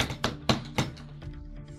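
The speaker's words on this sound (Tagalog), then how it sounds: "Sino yung kumakatok?" Knocking on a door, about four sharp, evenly spaced knocks close by followed by fainter taps, with no talking over them.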